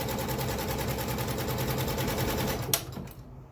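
Janome MB4 embroidery machine stitching an appliqué design, a fast even mechanical whirring rattle of rapid needle strokes, close and steady, before stopping abruptly with a clunk and fading.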